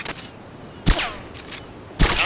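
Gunfire in Metal Gear Solid: Peace Walker, a few distinct sharp shots spaced about a second apart, each with a short ringing tail over a steady game background.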